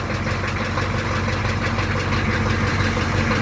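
The engine of a GMC G30 short bus fitted with Firestone air helper bags runs nearby, a loud, steady idle with a rapid knocking rhythm and no voices.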